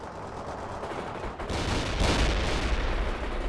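Gunfire crackles in the World in Conflict video game, a dense, continuous barrage of distant shots and artillery rumble that grows louder and heavier halfway through.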